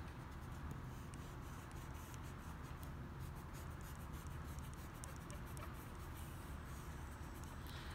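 A pencil eraser scrubs over paper on a perspective drawing, a continuous dry rubbing with quick back-and-forth strokes, close and quiet, with no talk over it.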